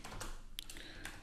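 Fingers tap a computer keyboard in a short burst of quiet, close clicks, with a few sharper keystrokes standing out.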